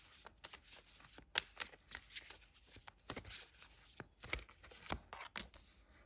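A deck of tarot cards is shuffled by hand in a quiet room, giving repeated crisp riffling and slapping bursts at an irregular rhythm, close and fairly soft, with no talking.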